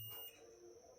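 A digital multimeter emits a steady, high-pitched continuity beep held for the full second while testing a shorted, swollen capacitor, heard close with no speech.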